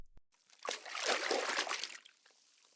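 Cool water trickles and splashes for a couple of seconds as it is poured out to drink, close and fairly full, then tapers off.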